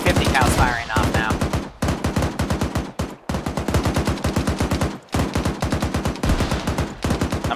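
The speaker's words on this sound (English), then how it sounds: "Well, at least the 50 cal's firing off now." A .50 cal machine gun in the video game ArmA 3 firing sustained rapid bursts, the sharp evenly spaced shots broken by brief pauses, loud and close, with some faint talk near the start.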